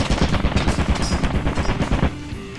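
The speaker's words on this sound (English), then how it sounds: "There's a turret." Rapid automatic gunfire from a turret in the video game Lethal Company, a loud, dense stream of shots for about two seconds that then stops abruptly, leaving quieter game ambience.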